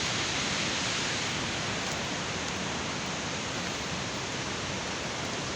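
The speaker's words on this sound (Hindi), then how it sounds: "So I am walking by the river side. आवाज़ आपको आ रही होगी, बहुत मज़े की आवाज़ आ रही है" A river in Neelum Valley, Kashmir rushes in a steady, unbroken broadband roar, close and constant with no pauses or other sounds.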